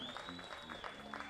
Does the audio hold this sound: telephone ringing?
no